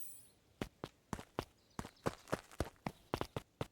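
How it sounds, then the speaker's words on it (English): A group of footsteps approaching in the video game Beacon Pines, a run of crisp, uneven steps that grow denser and overlap as several walkers near. "Luca heard a group of footsteps approaching."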